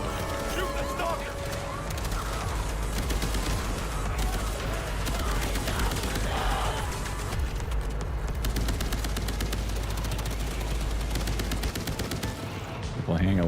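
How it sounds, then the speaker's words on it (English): Dense, continuous gunfire from the co-op shooter Toxic Commando, rapid automatic bursts and blasts under a low droning game soundtrack, loud and unbroken for the whole stretch. "Shoot the stalker!"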